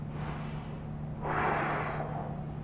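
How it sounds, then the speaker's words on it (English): A deep breath: a steady airy inhale and a longer, louder exhale, close to the microphone, over a low constant hum. "take a deep breath"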